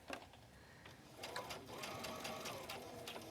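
A sewing machine stitches fabric at a 2.5 setting, its soft, quick mechanical whir running steadily at low volume with faint clicking as it works, no one talking.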